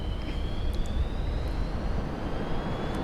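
MiG-29A jet in the DCS flight simulator touching down and powering back up, a steady loud jet engine roar with a thin rising whine running throughout, unbroken and close.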